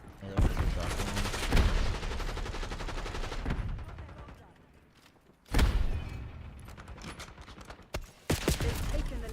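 Bursts of gunfire in a video game: heavy rapid volleys, a pause, then more sharp blasts, loud and close.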